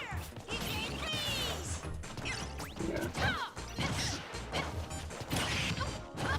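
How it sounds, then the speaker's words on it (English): Lucina's sword slicing a fighter in a Super Smash Bros. Ultimate singles match, with sharp crashing hits, swishes and whooshing game effects in quick succession amid a busy, loud mix of crowd and game sounds. "And then he gets sliced by a sword."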